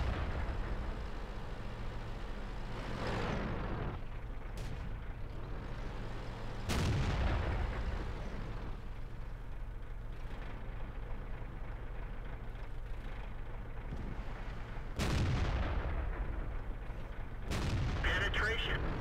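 Tank cannon shots in World of Tanks, fired from a Type 61 tank: three or four loud booming blasts spaced several seconds apart, each trailing off into rumbling engine and battlefield noise.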